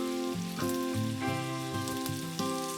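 Pancetta medallions frying in a pan give off a steady hiss and crackle, though a loud tonal sound with stepped pitch changes lies over the sizzle throughout.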